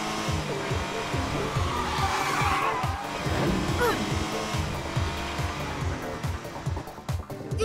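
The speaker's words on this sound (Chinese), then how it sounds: "他们在练习两车并排超车的技术" Race cars running side by side through an overtake in the animated series Flash & Dash 2: sustained high-revving engine whine with tire squeal and rapid pulsing roar, continuous and loud throughout.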